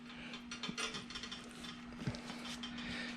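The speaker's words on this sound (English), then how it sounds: "Then you can go ahead and tighten everything up here" Ratchet clicking in short bursts while bolts are snugged up on a net installed on a John Deere Gator 590i utility vehicle, close and fairly quiet over a steady background hum.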